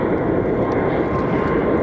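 A HondaJet business jet at Phoenix Sky Harbor Airport gives off a steady, loud, broadband engine roar that holds evenly throughout.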